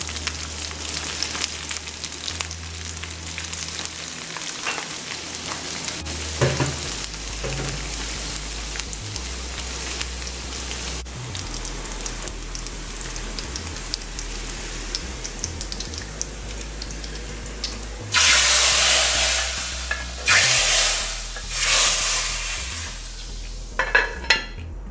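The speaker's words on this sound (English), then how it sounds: "Now I'll add the garlic" Garlic frying in a pan for a Christmas lamb multani dish, a steady close sizzle with stirring scrapes, swelling into louder bursts of hiss near the end, no voices.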